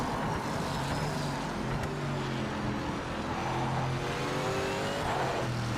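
A Porsche 963 race car in official livery droning through the game Project Motor Racing, its engine note rising and falling steadily and loudly throughout with no pauses.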